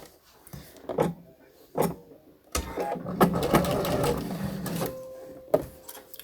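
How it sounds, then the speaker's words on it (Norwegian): A sewing machine stitches a blouse sleeve up close, starting with two short bursts before settling into a longer, steady run of rapid stitching, then stopping. "Da syr jeg med ermet ned."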